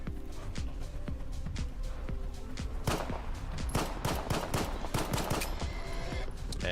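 Rapid automatic gunfire rattles through a firefight in STALKER 2, bursts of shots tumbling over one another in dense, loud, close volleys with a few sharper single cracks mixed in.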